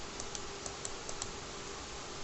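Several light, sharp clicks of a computer mouse on a desk while adjusting objects in an HTML5 JavaScript editor, spaced irregularly over a steady low background hum.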